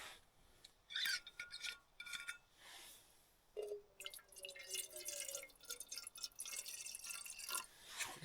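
A little water trickles and drips while camping solo on a winter mountain, faint close pouring with scattered splashes and scraping handling noises, mostly alone in a quiet setting.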